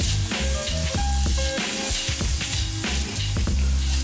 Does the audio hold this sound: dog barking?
no